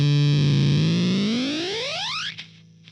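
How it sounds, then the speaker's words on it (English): A DIY Fuzz Factory guitar pedal emits a loud, heavily distorted tone whose pitch sweeps upward like a siren before its noise gate chops it off abruptly into stuttering fragments. "We're starting to hear a little bit of that choppy, gatey sound"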